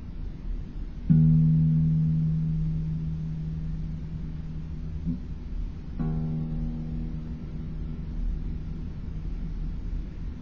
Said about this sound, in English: The 6th string, the E string, is going to sound like this.